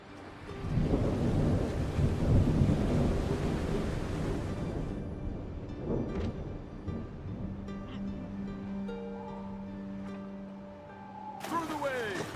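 Stormy ocean waves from a video game roar as a broad, loud wash for the first few seconds, then ease into a quieter rumble beneath sustained musical tones and a rising sweep near the end.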